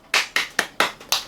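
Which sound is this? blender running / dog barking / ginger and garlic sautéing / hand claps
hand claps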